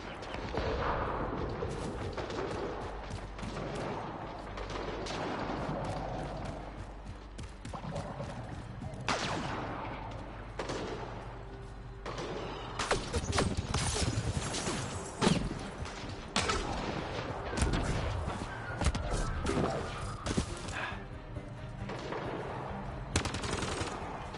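Sustained bursts of automatic gunfire and scattered shots from a jungle firefight in the video game Mass Effect Andromeda, dense and loud throughout with a rumbling combat backdrop.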